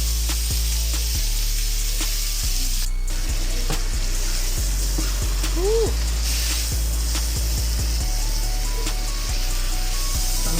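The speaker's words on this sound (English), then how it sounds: "Cooking a ribeye steak" A ribeye steak fries in a pan with a steady, loud sizzle that runs throughout, broken by scattered clicks and pops, with a brief whistling squeak partway through.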